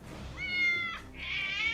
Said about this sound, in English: the cats are closing in on us!